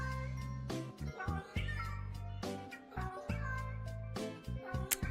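Repeated cat meows from a live stream sound alert, loud and close, several meows in quick succession with a voice talking in and around them.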